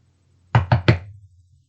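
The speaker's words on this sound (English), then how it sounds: "said the king as John knocked at the door" Three sharp knocks on a wooden door in quick, even succession, close and loud, with a short fading resonance after them and no voices.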